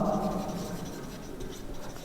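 Chalk or marker scratching steadily across a board during a physics class lecture, a continuous dry scraping stroke near and moderately quiet, with no talk over it.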